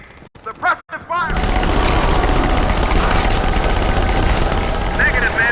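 Sustained, dense gunfire fills a Halo 2 Anniversary battle as suppressive fire, loud and continuous, preceded by a short burst of shouted voices and sharp noises.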